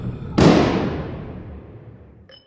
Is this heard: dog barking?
no